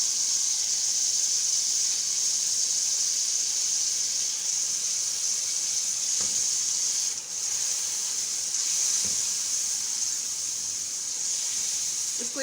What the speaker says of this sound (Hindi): अब इसको थोड़ा सा 1 मिनट के लिए भूनने देंगे और साथ ही हम ये डाल देंगे सारे स्पाइसेस।